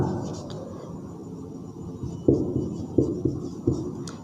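Chalk or marker writes on a classroom board, a few distinct taps and strokes growing sharper toward the end over a low room background, with no clear speech.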